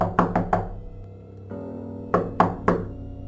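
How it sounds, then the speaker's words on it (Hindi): Knocking on a door at night comes as two sharp groups of three close, woody raps separated by a short pause, set against a low steady ambient hum. "रात के अंधेरे में किसी का दरवाजे पर दस्तक देना"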